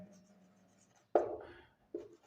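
Marker or chalk writing on a board during a set theory maths lecture, two short scratchy strokes close up after a faint stretch of room hum, with no talking.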